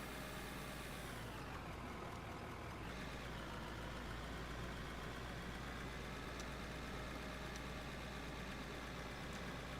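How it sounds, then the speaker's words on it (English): Vehicle engine in the Out of Ore mining game idling with a steady low rumble that holds the whole time, a faint shift near the start where it may catch and settle, no talk over it. "Start the engine, Dragon."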